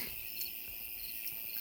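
Insects chirping at night on a remote midnight walk, a steady high buzzing trill with soft pulsing beats, faint and continuous.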